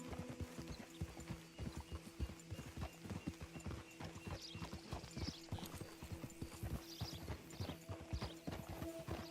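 Steady clip-clop of horse hooves from a ridden horse in Red Dead Redemption 2, a continuous trotting rhythm up close with an occasional whinny and game ambience underneath, no talking.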